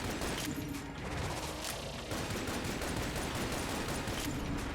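Rapid gunfire from a taped-together gun in the video game Enter the Gungeon, dense continuous bursts of shots and impacts filling the whole stretch with no talking.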